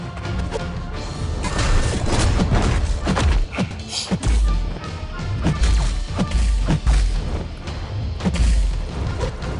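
Heavy attacks land in a video game battle, a rapid series of loud crashing thuds and booming hits with sharp whacks, dense and close throughout, no voices.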